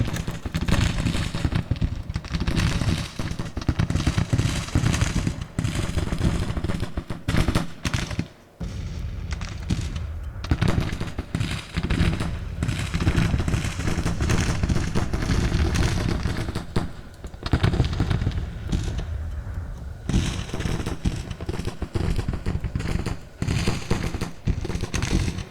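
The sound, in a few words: artillery and gunfire in video game Grand Tactician: Civil War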